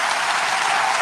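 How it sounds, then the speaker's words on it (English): A short, dense burst of crowd applause, many hands clapping at once in an even hiss of sound. "That needs a round of applause"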